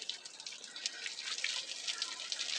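Water soaks the bricks of a homemade 12-volt brick air cooler, heard as a close, hissing stream with scattered splashes and drips, steady and fairly quiet.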